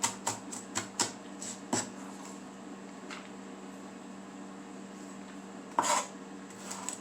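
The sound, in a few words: chopping food with a knife on a board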